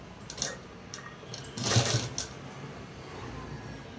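A sewing machine stitching dress fabric gives a brief loud whirring run in the middle, between quieter clicks and handling sounds in a room.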